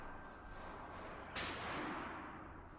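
A single sharp blast from a Remington 870 Express shotgun at an outdoor range, loud and close, with a broad decaying tail over steady background noise.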